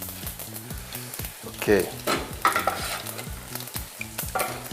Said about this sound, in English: You let the oil heat up, then put the fennel seeds and the cloves and give them between a minute or two and let them start to explode.